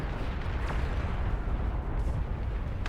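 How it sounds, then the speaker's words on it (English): In the strategy game Beyond All Reason, a Juggernaut unit explodes as a dense, continuous roar of rumbling blasts and crackling debris, loud and sustained without pause. "the explosion of that Juggernaut will take out a massive part of"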